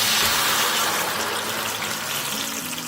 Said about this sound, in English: Very carefully add that jar of ranchero sauce.